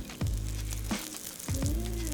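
Folded birria tacos frying in a pan, giving a steady close sizzle with a few bursts of crackling as they are moved, and no voices over it.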